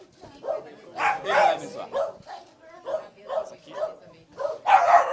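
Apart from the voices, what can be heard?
small dog barking, committee mascot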